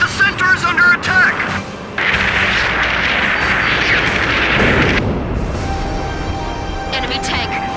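Enemy gunfire and explosions in the combat flight game Ace Combat 5, a dense, loud rumble of blasts and bursts lasting through the clip, with radio voices talking over the battle.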